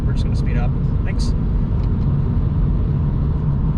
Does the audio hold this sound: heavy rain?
no